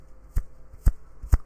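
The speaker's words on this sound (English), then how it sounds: "I'm just clicking my fingers with the gloves" Three crisp, evenly spaced finger clicks made by a gloved hand, each pairing a sharp snap with a soft rubbery rustle of the glove, close up against a quiet background.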